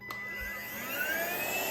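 UMLo ultra-lightweight cordless vacuum cleaner switching on at its low setting, a click followed by a motor whine that rises steadily in pitch as it spins up, close and continuous.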